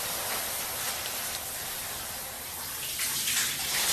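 A shower runs steadily with hot water, a dense even hiss of spray that swells slightly louder near the end, with no talking over it.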